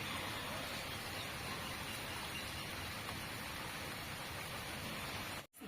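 Heavy rain pouring down in a dense, constant hiss that holds steady throughout, with a brief dropout near the end.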